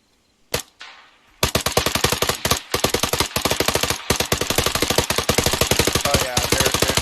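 Bursts of 5.56 rifle fire aimed at a BRDM armored vehicle in a video game: a single shot and a faint echo, then long rapid automatic strings with brief pauses, loud and close.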